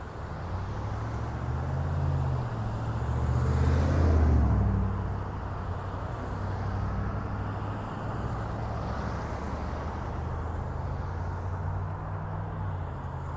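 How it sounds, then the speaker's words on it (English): Heavy road traffic fills a shopping district in Vero Beach, a steady low rumble of idling and slowly moving cars with one heavier vehicle swelling past midway, heard from inside a car with no talk. "Boy, a lot of traffic."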